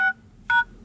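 Two short bursts of phone keypad DTMF tones, the star and hash keys pressed on an export-market MT6589 Android phone, each beep clear and close with a brief pause between them.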